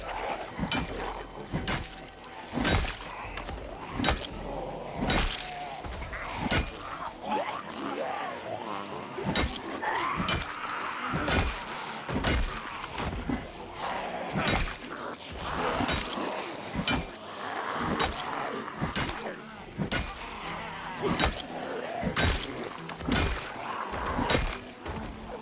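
Repeated hard smashing blows in the video game Project Zomboid, sharp thuds and cracks landing in a fast, steady rhythm throughout, loud and close with grunts between strikes.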